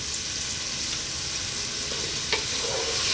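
Vegetables stir-frying for Filipino-style chicken noodles in a pan over lively, above-medium heat, giving a steady, loud hiss and crackle with occasional scraping stir strokes throughout.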